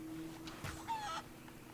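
A chicken in the Sea of Thieves video game gives a brief cluck and squawk. The call is close and short, with a faint steady background hum beneath it.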